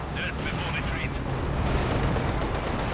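Rapid bursts of machine gun fire crackle through a Company of Heroes 2 battle, dense gunfire and distant booms layered together, with a voice briefly heard at the start.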